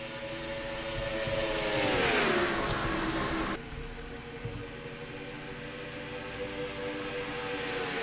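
Stock cars in the NR2003 racing game roar loudly as they accelerate on a green flag at the Interstate Batteries 400, engine pitch climbing then dropping as the pack sweeps past, a steady droning engine chorus continuing afterward.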